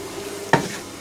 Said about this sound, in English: I'm going to cut some more up and put it in a pan.